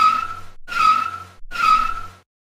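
Car tires skid and squeal in a racing-style video game, three loud screeching bursts about half a second each, separated by brief gaps, with engine noise beneath and no talking.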